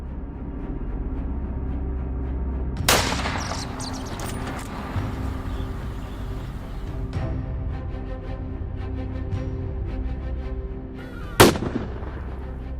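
Two loud, sharp gunshots from hunters' rifles ring out several seconds apart during a night wild boar hunt in Spain, each followed by a short echo, over a steady low background hum.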